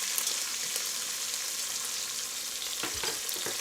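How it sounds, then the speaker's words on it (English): Short ribs browning in batches in a hot pan give a steady, close sizzle and frying hiss throughout, with a few louder crackles and pops near the end. "Into the pan. I'm just going to brown these in batches."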